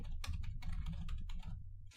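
Quick keystrokes on a computer keyboard as a command is typed, a short burst of clicky taps at close range with a few gaps between them.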